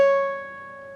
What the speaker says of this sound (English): Then you're going to play the 14th fret of your B string.